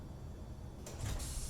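A garage door opening in the Space Engineers video game, a quiet low hum that gives way to a brief hissing, sliding mechanical whoosh near the end.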